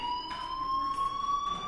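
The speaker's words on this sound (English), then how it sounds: "Hey, do you hear that fire alarm?" A fire alarm blares inside the video game Life is Strange, a steady high electronic tone with a sharper pulsing layer coming in bursts, loud and continuous throughout.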